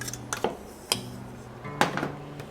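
A knife taps and clicks sharply against a cutting board while a jalapeno is cut for guacamole, giving several separate close knocks at an uneven pace with quiet gaps between them.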